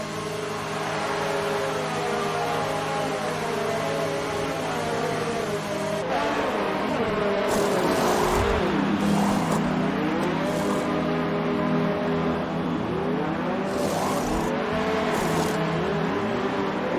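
Race cars in a racing video game at Abu Dhabi: a steady engine drone, then several cars roar and sweep past with rising and falling pitch, loud and close.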